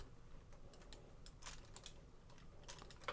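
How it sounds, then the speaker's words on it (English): Headlights on a Toynami Masterpiece Beagle Ride Armor Cyclone toy are flipped over, giving a few small sharp clicks as they snap into place, close and fairly quiet, with no talking. "We're gonna go ahead now and flip the headlights over until they click"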